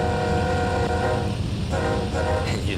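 Train in the Train Sim World 2 game on the Horseshoe Curve route braking toward a stop: a loud, steady rumble of wheels and engine with sustained tonal hums, and a brief horn-like tone near the end.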